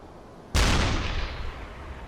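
A U-boat deck gun in the Uboat video game fires a single loud shell, a sharp blast at once followed by a long rumbling decay that trails off over the next second and a half.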